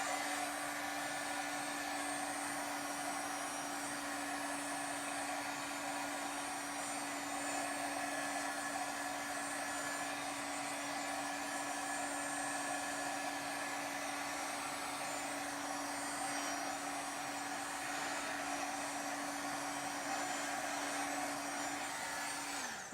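A hair dryer runs nonstop at close range, drying paint on a gel plate print tag with a steady, loud whir and a constant motor hum that stays even throughout, with no voices.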